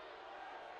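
Hockey crowd at a Jacksonville Icemen versus Orlando Solar Bears game groans and murmurs in displeasure at a slashing penalty call, a brief, steady wash of massed voices.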